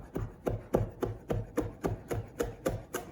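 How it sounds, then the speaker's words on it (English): A knife roughly chopping fresh rosemary on a board, about ten steady, evenly spaced thuds, close and fairly loud with no talking. "Okay, so just give it a nice rough chop."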